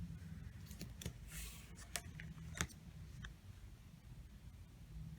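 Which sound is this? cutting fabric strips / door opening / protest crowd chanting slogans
cutting fabric strips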